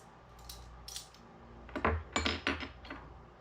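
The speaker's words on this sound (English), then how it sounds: "getting the measuring spoons off the alcove hook" Metal measuring spoons lifted off a hook in a kitchen alcove, giving a few light metallic clinks and jangles, with a brief rattle early and a quick cluster of brighter clatters near the end, close and fairly quiet.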